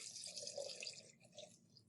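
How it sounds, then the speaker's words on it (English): Water poured into a pot for rock candy syrup, one cup measured in, a steady close trickling and splashing stream running continuously without talk. "I'm going to add 1 cup of water as per the directions."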